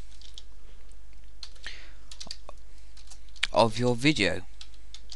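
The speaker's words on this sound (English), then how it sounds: "just type in the directory" Scattered light keyboard clicks from typing a directory path on a computer, soft and close, with a short burst of speech partway through.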